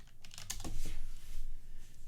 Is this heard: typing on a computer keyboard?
yes